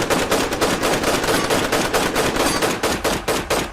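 Rapid, loud bursts of machine-gun fire ring out in a dense rhythm, a dramatized attack on a herd of musk deer in a forest. The volley goes on for the whole stretch with no voices.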